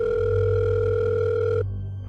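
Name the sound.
telephone ringing as father calls the school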